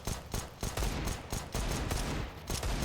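Rapid bursts of pistol fire from a P250 handgun in a Counter-Strike match, a dense volley of sharp, loud cracks repeating every half second or so, overlapping into a continuous fusillade.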